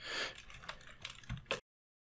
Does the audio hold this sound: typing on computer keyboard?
yes